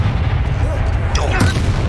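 Spells blast in the Hogwarts Legacy video game, with loud, booming impacts and rumbling crackle under a dense, continuous game soundscape, one sharp swooping burst standing out.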